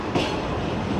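Train running on rails as it slows approaching Raiwind Junction on the Fareed Express, a steady rumbling roll with faint clickety-clack, close and continuous with no talk.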